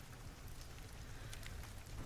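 Steady rain falling, a soft continuous hiss of drops on a surface, faint and even throughout with no voices.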